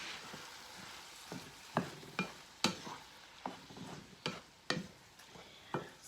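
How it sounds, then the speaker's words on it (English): Tomato sauce with basil and bay leaf cooks in a pot, a soft simmering sizzle broken by a series of sharp clicks and scrapes of a spoon stirring against the pot, spaced irregularly, with no voices. "I'm just going to let this simmer until our tomatoes start to cook down"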